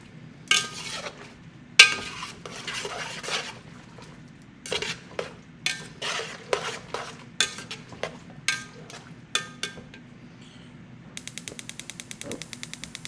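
A utensil scrapes and clinks against a cooking pot while stirring, with repeated short metallic strokes in an uneven rhythm close by and a faster rattling run near the end.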